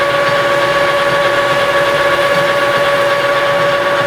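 Metal lathe taking a facing cut across a workpiece, a steady close machining hum with constant tonal whine and broadband hiss, unbroken throughout.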